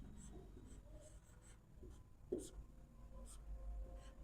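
A pen scratches on paper in short strokes and taps, one sharper tap near the middle, close but faint against a low background hum, as math working is written out.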